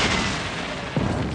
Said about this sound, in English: Union artillery began to fire back